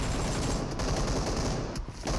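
Gunfire in PUBG Mobile, a loud, sustained burst of rapid automatic shots with two brief pauses, close and dominant.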